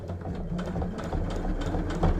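Sewing machine stitching a fabric pouch, a steady mechanical whirr with rapid needle rhythm running continuously at close range, slightly intensifying near the end.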